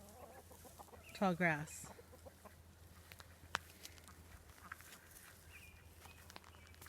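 Chickens in a yard let out one short burst of clucking, close and clear, against a quiet outdoor background with a faint tap or step afterward.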